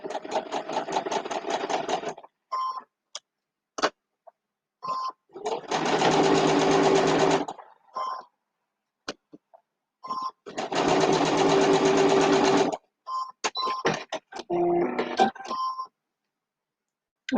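A sewing machine stitching a quilt block, two sustained bursts of rapid stitching with short stops, clicks and handling noises between them.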